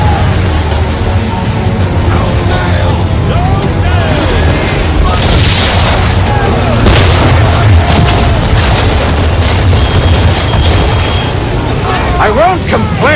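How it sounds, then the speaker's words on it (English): Naval cannons firing chain shot in Assassin's Creed III, a dense run of heavy booms and bursts over continuous battle noise, with voices talking throughout. "Chain shot should do the trick."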